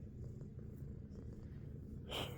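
A small female cat purrs softly and steadily at close range, faint and low, with a brief rustle near the end.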